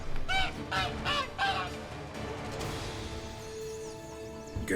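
A goose honks several times in quick succession in The Witcher 3, loud and close, then trails off into quieter game ambience.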